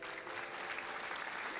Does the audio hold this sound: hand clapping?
yes